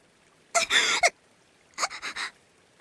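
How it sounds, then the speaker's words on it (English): A woman voicing a visual novel character gasps twice, a long sharp intake of breath followed after a pause by a shorter broken series of gasps, close and isolated. "Tomotake-san gasps for air and starts trembling."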